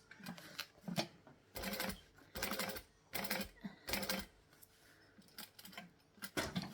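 A sewing machine stitches at turned-down low speed in short bursts of rapid mechanical chatter separated by brief pauses, close and moderately loud, with no voices.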